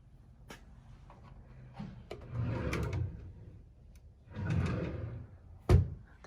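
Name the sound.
drawer being opened and closed while shopping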